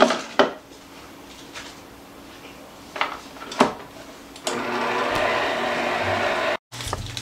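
Cake batter for Valentine's Day cake pops, made from plain white cake mix, is mixed in a bowl: a few scattered clinks against the bowl, then a steady, fairly loud scraping churn that runs for a couple of seconds before stopping abruptly.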